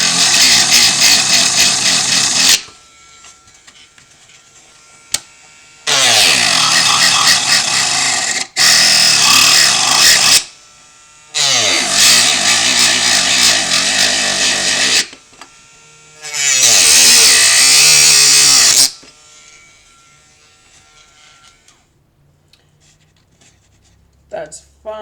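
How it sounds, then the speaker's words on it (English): A Dremel rotary tool cuts diorama material in loud, harsh bursts of high whine lasting a few seconds each, with short quiet gaps between them, close up; no one speaks. "And then a Dremel."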